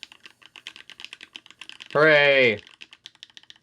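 Fast, steady keystrokes on a rebuilt ikki68 keyboard fitted with Ice Mint linear switches and no dampening, clicking close up throughout, briefly interrupted by a loud, sustained vocal exclamation.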